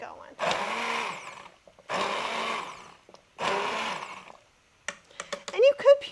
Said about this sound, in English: We're just going to stick an immersion blender in there and get a little bit of it going